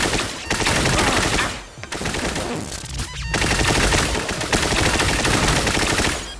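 Dense, loud gunfire fills nearly every moment of an Espire 1 video game firefight, where enemies armed with shotguns unleash overlapping blasts in a near-continuous barrage with only a brief lull.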